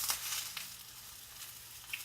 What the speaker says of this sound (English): Eggplants are cooking.